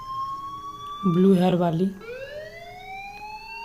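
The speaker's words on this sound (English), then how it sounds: "Hey, do you hear that fire alarm?" A fire alarm wails in the Life is Strange video game, rising in a steady sweeping siren tone that carries under the player's short stretch of talk.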